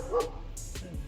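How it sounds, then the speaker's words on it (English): A dog gives a short, sharp bark or yip in a workshop during a custom teak bench build, a single quick burst over low background noise. "Even the dog is laughing at you."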